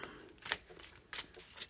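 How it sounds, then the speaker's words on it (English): Tarot and oracle cards are shuffled by hand, soft riffling swishes with a few crisp snaps, faint and close, no speech. "I'm just shuffling my cards here because I haven't had a chance to shuffle them"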